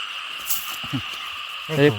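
Frogs croaking in a rice field flooded after heavy rain, a steady insect-like trill running underneath, with a louder close croak near the end and faint voices mixed in.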